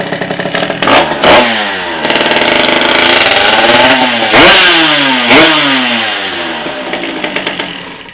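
A moped engine fitted with an Athena 50 kit and RL70 exhaust, loud and close, revving up and down in repeated rising sweeps with sharp throttle blips and a rattly idle between.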